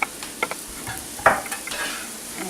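An onion cooking in a pot for potato soup gives a soft, steady sizzle, broken by a few brief stirring scrapes and clinks.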